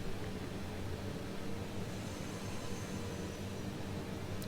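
A simulated Airbus A330-300 jet taxis in Microsoft Flight Simulator 2020, its engines producing a continuous, broadband whooshing drone with a low rumble, steady and moderately loud from start to finish.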